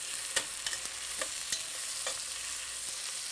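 Onions frying in a pan with salt are stirred, a steady sizzle beneath several distinct scraping strokes at irregular intervals, close and moderately loud.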